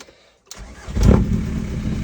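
A 1998-2004 VW ALH TDI diesel car engine cranks over after a moment of quiet and catches within about half a second, then settles into a loud, rumbling idle close at hand.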